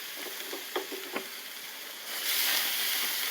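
A thin steak sizzles on a gas grill with a steady, close hiss and a few soft taps early on, then the frying swells louder and brighter for the final second.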